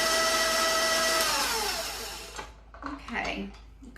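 Electric stand mixer churning pound cake batter as flour goes in, a loud steady whir for about two seconds that then winds down, followed by soft clatter and faint kitchen sounds.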